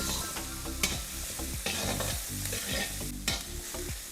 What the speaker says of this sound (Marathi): आपली हिरवी मिरची जी आहे ती देखील अगदी व्यवस्थित अशी यामध्ये परतून झालेली आहे